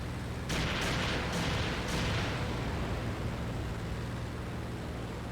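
In the IL-2 combat flight game, an aircraft fires bursts of rounds at a Panzer IV tank: several sharp, loud cannon blasts in quick succession over a constant roar of engine and wind noise.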